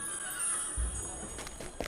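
A horse whinnies in the fantasy role-playing game Dungeons and Dragons Online, a loud, rough neigh rising over a steady game ambience, followed by a few snorting breaths near the end.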